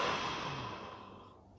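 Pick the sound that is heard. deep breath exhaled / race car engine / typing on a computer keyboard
deep breath exhaled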